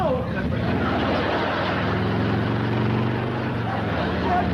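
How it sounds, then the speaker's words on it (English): A motorcycle ridden indoors through a house, a loud steady engine drone with a rising tone as it pulls away, filling the room without a break. "Some crazy kid is racing up down your driveway on a motorcycle"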